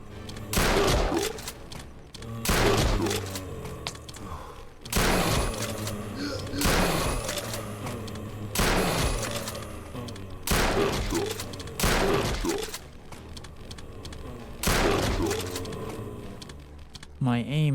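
Gunfire in a spooky video game comes as repeated bursts of sharp rapid shots, loud and close, separated by short gaps, with someone talking and keyboard clatter between.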